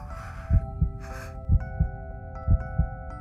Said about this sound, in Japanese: 鼓動がバクバクと跳ね上がっていきます。